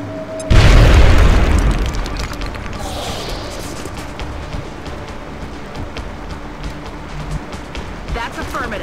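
A frag grenade detonates in XCOM: Enemy Within, a sudden loud, deep boom that rolls off into a long rumbling decay with scattered debris clatter and game effects behind it.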